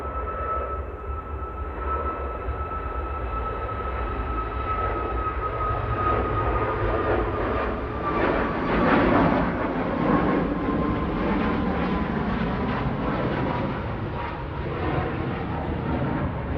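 Airliner departing from Manchester Airport, a steady broad jet roar with a slowly sweeping whine, swelling to a peak midway and holding loud throughout, no voices.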